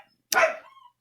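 A dog gives a single sharp, close bark that trails off quickly, with silence on either side.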